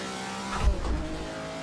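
A Ferrari race car engine revs hard at Zandvoort in a racing video game, a loud steady drone that briefly swells with a deeper roar and tire noise.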